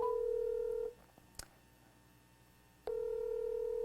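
Telephone tones sound as a call is placed for a phone interview: a steady dial tone breaks off for short dialing beeps, then a single clear tone resumes, fairly quiet with no talk.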